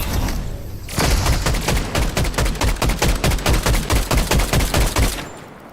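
Rapid automatic gunfire in Fortnite: a dense, loud burst of evenly spaced shots roughly four per second, running steadily for about four seconds after a brief lead-in.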